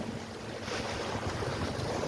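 Ocean waves and a light chop at the Murrells Inlet jetties under a north current, heard as a continuous near wash of surf with wind buffeting the microphone.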